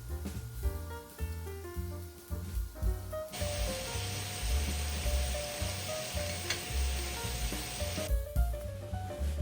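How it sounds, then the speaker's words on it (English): Bacon crisping in a pan for cheddar potato soup, a steady close sizzle and hiss that swells loudly through the middle of the clip over a music bed, with no talking. "I am getting some bacon all crisped up"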